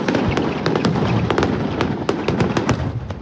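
Fireworks at a Diwali celebration in New Zealand crackle and bang in a dense, irregular barrage of sharp pops and bursts, loud and continuous throughout.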